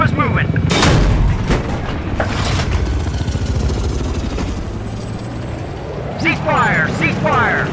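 An M1 Abrams tank's coaxial machine gun fires on infantry: loud, continuous rattling bursts over a heavy rumbling engine drone, with a short whistling tone near the end.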